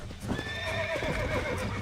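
A horse in the Western game Red Dead Redemption whinnies loudly in a long, wavering neigh, with hooves thudding underneath in an uneven clip-clop throughout.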